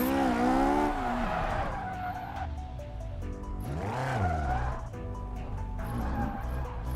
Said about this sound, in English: That's all engine is what that is.